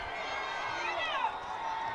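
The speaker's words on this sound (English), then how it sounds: "Crowd getting loud here for their Orioles." Crowd at a high school football game between Osseo and White Bear Lake growing loud on a fourth-down goal-line play, a dense roar of voices and shouts filling the stands, steady and sustained.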